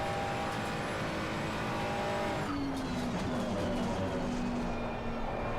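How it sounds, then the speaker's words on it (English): Race car sliding through corners at Imola in a racing sim with mis-set tire pressures, engine droning steadily while a long tire squeal whines across the second half, loud and close throughout. "Car sliding too much."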